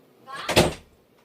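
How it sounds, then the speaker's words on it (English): A single door swings shut nearby with a dull thud. A soft rustle comes just before the close, and the room goes quiet afterward. "Close the door"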